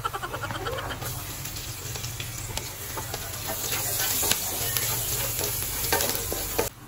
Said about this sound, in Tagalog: Ginisa ko nga muna dyan ang luya, sibuyas at bawang.